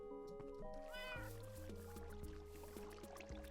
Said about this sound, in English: Yay, I've got a cat.